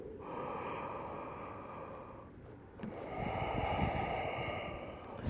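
Slow, audible breaths during an Ashtanga yoga class, each a close, breathy rush with a snort-like edge, a long exhale easing off, a short lull, then a louder inhale swelling back up.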